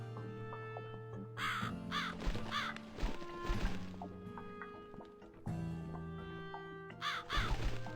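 A crow caws several times in the horror adventure game The Cat Lady, harsh calls set against a layered, droning game soundtrack with thuds and musical swells.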